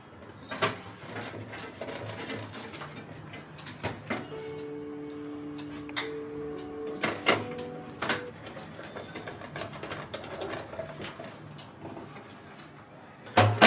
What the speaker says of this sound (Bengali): তো মাদারবোর্ডটা আমি ফিট করছি।